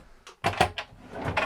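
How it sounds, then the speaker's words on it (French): Drawer in a Pilote Atlas compact camper van sliding open and shut, a few quick close clacks and rattles in a quiet interior. "Tiroir."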